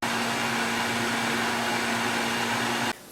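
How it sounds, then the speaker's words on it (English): A blender whirs steadily as it blitzes a sauce containing a packet of ranch dressing, a loud, continuous motor drone that cuts off abruptly near the end. "We're just going to put the top on this and get this blitzed."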